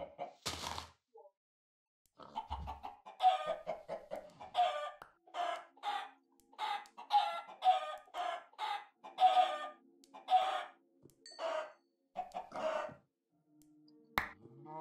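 Minecraft chickens cluck over and over in a busy, uneven patter, with a few crowing notes, sharp clicks and snaps of game actions scattered among them.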